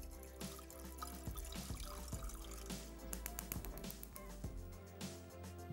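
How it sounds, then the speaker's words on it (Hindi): Lukewarm water trickles and drips steadily into a vessel in a kitchen, a quiet liquid patter with a low hum underneath, no voices. "यहाँ पे हमने थोड़ा सा गर्म पानी, नीम कुनकुना पानी"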